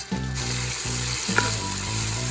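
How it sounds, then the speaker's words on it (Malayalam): Onions frying in oil for a Kerala-style duck biryani, a close steady sizzle running under a low rhythmic hum, with a couple of soft scraping clicks and no talk. "കുറച്ച് സവോളകൾ നമുക്കിപ്പോൾ നല്ലോണം ഒന്ന് വറുത്തെടുക്കാം."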